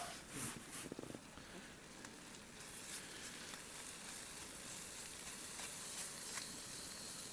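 Onions and mushrooms sizzle in a pan at a cold wild campsite, a faint steady hiss and crackle with a few clinks from stirring at the start.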